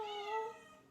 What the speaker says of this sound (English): My cat.